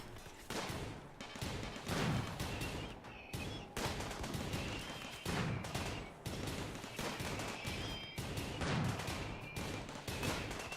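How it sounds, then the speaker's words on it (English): Uranium turret in RimWorld firing sustained bursts, dense repeated gunfire in several waves with brief pauses, loud and continuous over the whole stretch. "That uranium turret"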